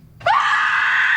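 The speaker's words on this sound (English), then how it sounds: "David was screaming at the top of his lungs" A man screams at the top of his lungs, a sudden, loud, close cry that erupts after a short quiet moment and holds steady and piercing to the end, with no other voices.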